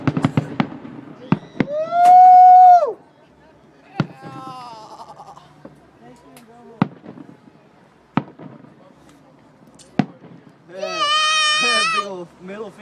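Fireworks in a big outdoor show burst in scattered sharp cracks and booms, some near and loud, others distant, with whistling rockets rising and a crowd shouting and cheering throughout.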